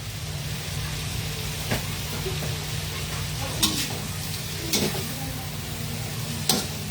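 Garlic and shrimp sautéing in a pan for buttered shrimp, giving a steady close sizzle with a few sharp clicks and scrapes of a utensil stirring against the pan.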